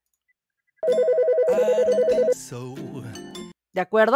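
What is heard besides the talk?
telephone ringing sound effect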